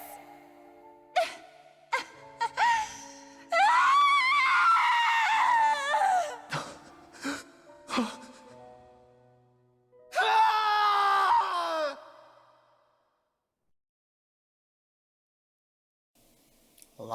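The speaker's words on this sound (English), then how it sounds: "A lot of screaming." Screaming and anguished cries from characters in the video game Tales of Arise, coming in loud bursts with groans and gasps between them, then falling silent.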